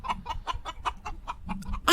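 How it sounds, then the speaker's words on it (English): A chicken clucks in a quick run of about eight to ten short, rhythmic clucks, close and moderately loud, ending with a sharper burst at the close. "that's the weirdest chicken I've ever heard"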